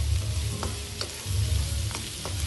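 Fried tofu sisig sizzles in a pan while a utensil stirs it, scraping the pan several times against a steady frying hiss, with no voices.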